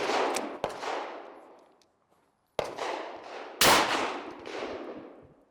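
Three loud, sharp blasts from a Stoeger Double Defense double-barrel shotgun firing Hornady American Gunner low-recoil buckshot at 7 yards, each boom decaying into a long echo, with a short silent gap before the last two shots.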